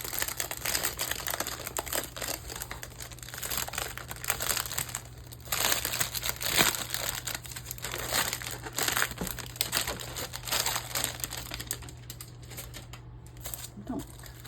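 Plastic packaging from a diamond painting kit crinkles and rustles continuously during unboxing, close and fairly loud, with brief pauses and occasional soft handling noises.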